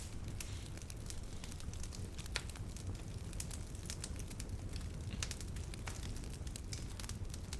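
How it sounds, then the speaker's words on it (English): Bonfire flames crackling steadily, with dense irregular pops and snaps over a continuous low roar, fairly faint throughout with no talking. "Let's light the bonfire, yo."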